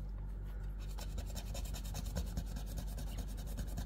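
A scratch-off card with a princess theme is being scratched, a close run of quick rasping strokes that speeds into a rapid, regular scraping rhythm, fairly quiet and with no talk.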